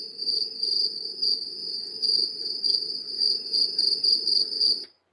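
A pet cricket named Mikey chirps steadily in rapid, evenly spaced pulses, close and fairly loud, running unbroken for several seconds before stopping abruptly.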